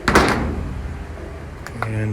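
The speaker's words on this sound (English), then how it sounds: "It's not the lightest door I've ever seen" A heavy door swings open with a brief clunk and scrape, followed by quieter creaking and shuffling, with people talking over it.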